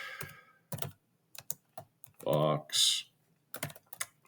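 Keys on a computer keyboard are tapped in short bursts while a project name is entered, soft clicks mixed with someone speaking briefly.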